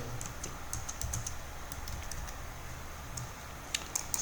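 Fingers tap steadily on a computer keyboard while text is entered into a Freshdesk web page, bursts of quick, light clicks with brief pauses over a low background hum, close and fairly quiet.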